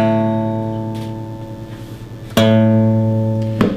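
A guitar's low E string fretted at the 5th fret rings out as a sustained harmonic note, fading slowly, then is plucked again near the end with a fresh, brighter attack; clear and close with no talk.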